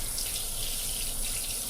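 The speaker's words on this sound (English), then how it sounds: "I will run it under the water" Tap water runs steadily over a fluffy makeup brush at a sink, a close, continuous hissing stream with no speech.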